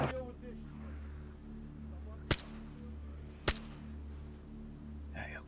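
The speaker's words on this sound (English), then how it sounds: "Good shooting there, Tex, eh?" Two sharp gunshots in the DayZ video game, crisp and loud, about a second apart over a steady low engine-like hum, with faint talk at the start and end.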